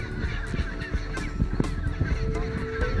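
A large chinstrap penguin colony in Antarctica calls in a dense, loud chorus of harsh, honking brays that overlap continuously, near and all around.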